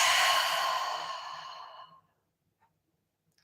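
A single long, deep exhale during a breathing exercise, a broad breathy rush that is loud and close at first, then slowly fades to silence after about two seconds.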